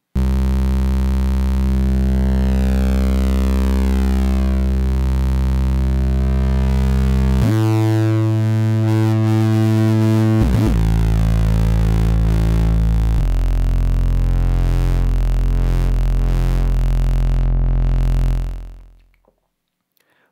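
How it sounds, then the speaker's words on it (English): An Ensoniq EPS synthesizer holds a sustained C note, with the B23 second waveform brought in partway through. The steady tone shifts texture and continues alone before cutting off at the end. "So you heard that second waveform come in and you hear just more texture changes."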